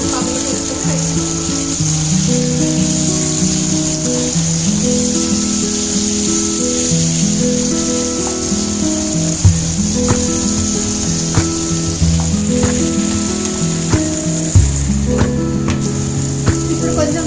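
Tomatoes sizzle steadily in hot oil in a pan for egg bhurji, a continuous loud hiss with occasional small pops and clatters, no voices.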